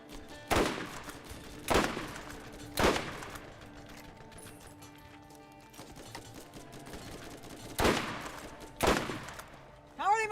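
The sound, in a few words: gunfire in Borderlands video game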